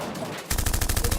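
A rapid burst of gunfire effects erupts after a brief quiet stretch, with loud, evenly spaced shots firing in quick succession like a machine gun until the end.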